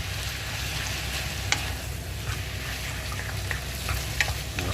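Minced meat and bacon frying on high heat in a pan, a dense steady sizzle with occasional clicks and scrapes from stirring, close and continuous without speech.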